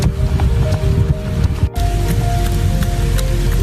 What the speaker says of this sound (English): It's 44 degrees and it's nice and rainy outside